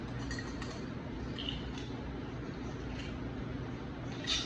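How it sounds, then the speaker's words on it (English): A cocktail stirred with ice is strained into a glass at a bar, giving faint, scattered clinks of ice and glass over a quiet room background. "Then we're going to strain it over the glass."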